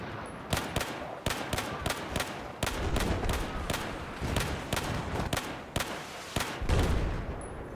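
Gunfire in Battlefield 4 on PS4 in the Flood Zone map, a dense run of sharp rapid shots and bursts from an F2000 rifle and distant weapons, loud and continuous with brief gaps.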